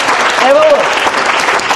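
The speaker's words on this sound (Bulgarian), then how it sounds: "затова не ги чакай да свършва да пляскат" An audience in a TV studio debate claps steadily, a dense, loud patter of many hands, while a voice briefly rises over the applause.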